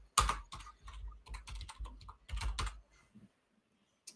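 Someone types on a computer keyboard, irregular bursts of close, crisp key clicks for about three seconds, then the tapping fades out to a couple of isolated soft knocks.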